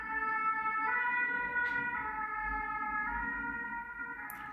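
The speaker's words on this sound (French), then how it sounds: "On va laisser passer la sirène." An emergency vehicle siren wails steadily and loudly throughout, its rising and falling tones holding close and clear with no talk over it.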